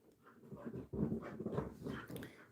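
A dog whimpers and whines close by in a Bed-Stuy brownstone, a continuous run of soft, wavering cries and breathy pants, fairly faint with no speech.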